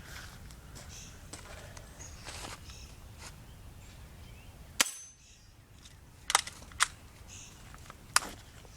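Sharp, sudden gunshot cracks fired at steel plate targets ring out four times at irregular intervals, fairly distant and brief, over a low outdoor background hiss.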